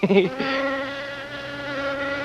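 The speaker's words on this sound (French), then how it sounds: "il y a le problème des mouches" Houseflies buzz steadily and close, a sustained droning hum with a brief louder burst at the start, continuing alone without any talk.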